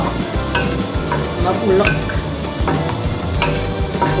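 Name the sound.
coconut milk boiling with cassava leaves being stirred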